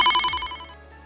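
A telephone rings as a medication order for a patient is about to be phoned in to Zipline. It is one short, loud, bright ring burst that fades quickly, with no other sound around it.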